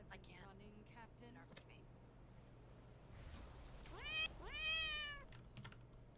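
A house cat meows a few times during a World of Warcraft raid session, the cries rising and bending in pitch over soft background game sound and quiet keyboard clicks, moderately close.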